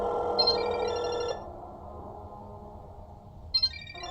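Electronic phone ringing tones in the horror video game Parasocial, a short two-tone ring pattern that stops and then starts again, clear and fairly quiet, with no voices.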